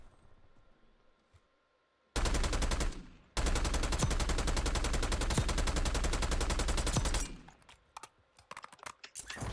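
AK-74 rifle fire in Call of Duty: Warzone rattles in a short burst, then a long sustained stream of rapid automatic shots, loud and close, trailing into scattered clicks and quieter sounds.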